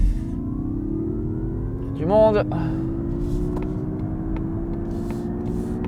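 Mazda MX-30 electric car accelerating hard from a motorway toll exit, a rising electric whine climbing steadily in pitch as speed builds, with a brief voice speaking over it partway through.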